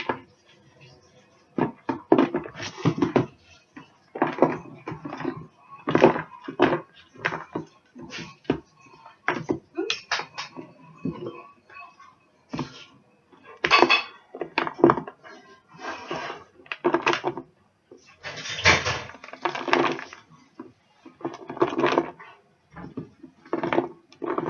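Dry granola ingredients for a chocolate and coffee granola tumbled and shaken into a bowl on a table: a dense, continuous run of rattling, scraping and clattering bursts, close and fairly loud.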